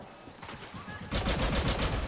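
Rapid gunfire from a weapon in the Star Wars Battlefront II beta on the Takodana map, quiet at first, then a loud sustained burst of repeated shots.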